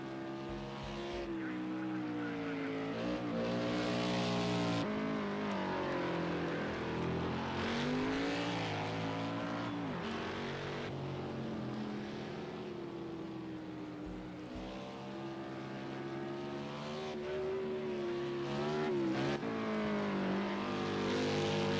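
Race car in Project CARS 2 getting going again after a spin, engine droning and rising through repeated revs and gear changes, steady and loud amid other cars' engine noise.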